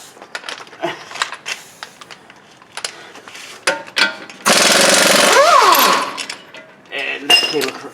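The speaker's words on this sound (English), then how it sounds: "We grab the air gun, because apparently this one's not gonna touch it." Air impact gun working on the front knuckle through bolts of a 2007-2011 Toyota Camry in a garage, a loud sustained rattling burst of about a second and a half amid tool clinks and handling noises.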